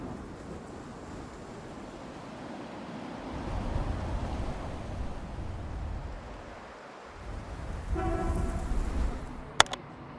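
A metro train rumbles through Tatuapé terminal in São Paulo, building to a steady roar, easing, then swelling again, with a brief sharp clank near the end.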